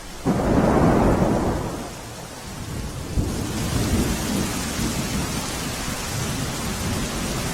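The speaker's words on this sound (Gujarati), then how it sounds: "જય, જે રીતે સતત વરસાદ વરસી રહ્યો છે, કેશોદમાં શું પરિસ્થિતિ છે ભારે વરસાદને લઈને?" Heavy monsoon downpour in Keshod, Junagadh, Gujarat, with a loud close thunderclap at the start that fades into steady, dense rain hissing on surfaces throughout.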